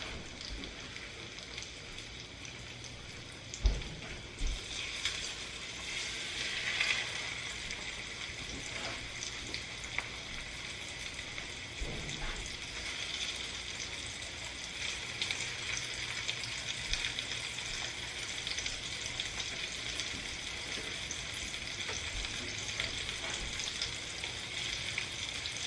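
Food frying in hot oil for a 1950s-style dinner gives a steady, moderately quiet crackling sizzle with a few sharper pops and clatters along the way.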